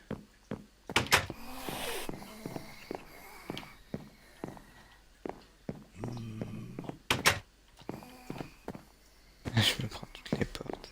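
Wooden doors opening and closing in Minecraft, a series of sharp, close clicks and thunks spread irregularly through the clip, with quiet game ambience between them.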